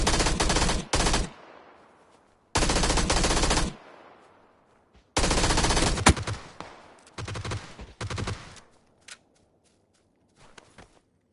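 Gunfire from above in PUBG on PS4, loud close bursts of automatic fire in several separate volleys, each dying away into a short echoing tail, followed by a few fainter scattered shots.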